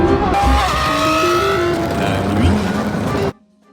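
A Lamborghini Revuelto surges away at the start of a short race, its engine roaring loud and close with rising gear-by-gear pitch sweeps, cutting off abruptly near the end.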